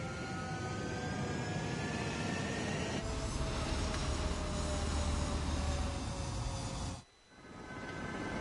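Jet fighters taking off in the video game Ace Combat 7: a steady, loud roar of engines with a broad hiss and rising whine, holding for several seconds before cutting to a brief quiet dip and building again.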